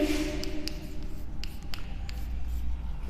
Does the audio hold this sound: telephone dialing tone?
no